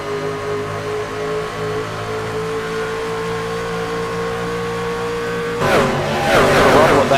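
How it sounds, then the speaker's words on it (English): Electric race trucks rumble around Nashville Superspeedway in a steady, loud, droning engine roar, which swells into a harsher, rising pass-by near the end. "Love the rumble of those engines."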